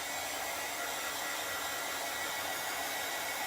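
A hair dryer blowing on a small craft piece gives a constant, loud, close hiss of rushing air that holds steady without a break.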